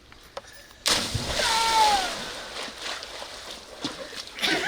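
Someone falls into water with a sudden loud splash, followed by sloshing and dripping water that fades off, while voices talk faintly in the background.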